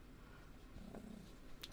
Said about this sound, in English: Now I've been distracted by a cat,